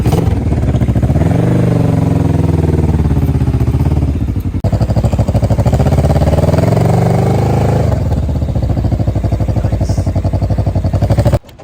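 A T-Rex three-wheeled vehicle's engine being driven, loud and close, with a sustained motorcycle-like drone that drops briefly twice as revs shift, then cuts off at the end.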